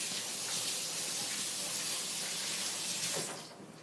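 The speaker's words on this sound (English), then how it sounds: "Give me a second to wash my hand." A kitchen tap runs for hand washing, a close, steady rush of water that fades out just before the end.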